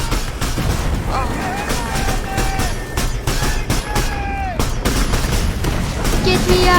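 Steady gunfire rattles across a WW1 trench in War Remains VR, with repeated sharp shots and distant volleys blending into a dense, loud barrage, while a voice calls out briefly.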